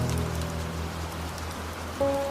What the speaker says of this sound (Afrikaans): Dit reën.